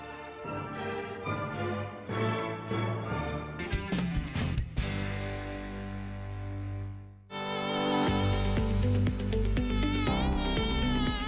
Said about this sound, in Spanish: Actívate contra el mosquito.